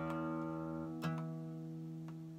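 Guitar string harmonic produced by a finger resting on a node of the low E string, a faint sustained pure tone with a light pluck in the middle and a few soft ticks, heard alone.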